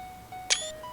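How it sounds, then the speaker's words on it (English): A single quick click-whir of a camera shutter fires from the screenshot key in Shroud of the Avatar, a short bright snap standing out over faint steady game tones, with no talk. "I just got to hit a key and you can hear the little camera shutter go behind me"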